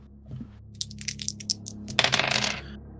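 Dice rolled on a table, heard as a run of small hard clicks and rattles that ends in a denser clatter, close and fairly quiet.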